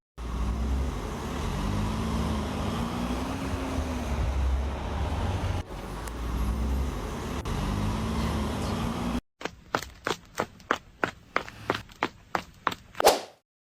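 Car engine droning steadily in a Sakura School Simulator driving scene, a continuous hum with wavering pitch, then a sharp cut to a rapid series of clipped, evenly spaced bursts ending in a louder one; no talking.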